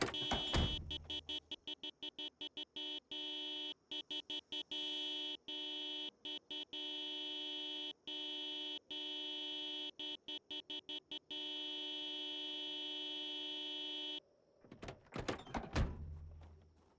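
Repeated game horn honks in a video game, a steady sustained tone chopped into short and long blasts in irregular rhythm, loud and continuous for most of the stretch, ending in a burst of mixed noise.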